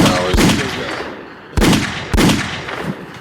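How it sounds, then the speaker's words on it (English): Three sharp gunshot effects ring out loud and close, one then a pause and two more in quicker succession, each with a short echoing tail and no talk over them. "Gunshot."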